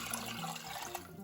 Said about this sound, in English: And next we'll be adding our water.